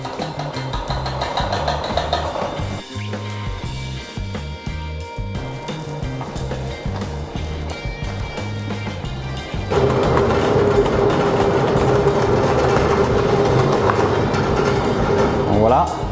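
A stand mixer beats muffin batter in its bowl, giving a continuous mechanical whir that grows louder and steadier partway through, with a person talking over it.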